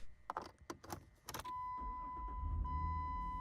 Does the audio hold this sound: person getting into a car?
yes